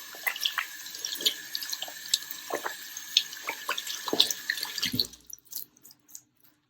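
Hands washed with soap under a running tap, a steady close wash of water with splashes and drips that stops abruptly near the end, leaving a few faint drips.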